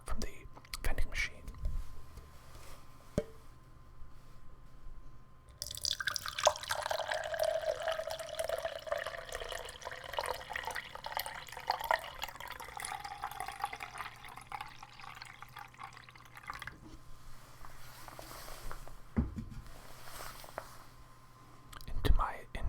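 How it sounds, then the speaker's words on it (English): Arizona iced tea from a vending machine is poured into a cup, giving a steady close trickle of liquid that runs for several seconds after a soft whisper and then stops. "And now I'm going to pour more of my Arizona iced tea that I got from the vending machine."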